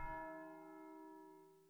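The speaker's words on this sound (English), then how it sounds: "That's the bell for Sext." A single abbey church bell in the video game Pentiment, ringing for Sext: one soft, struck tone with a long, ringing decay that fades slowly, quiet and alone.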